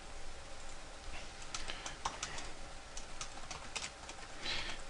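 Rapid keystrokes on a computer keyboard while vendor details are entered, a quiet, uneven run of clicks and taps with short pauses, close to the mic and free of talk.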